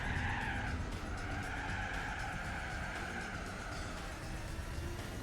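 A car scrapes along a wall in Gran Turismo 4 with a continuous loud grinding skid and tire squeal over steady engine noise, close and unbroken throughout.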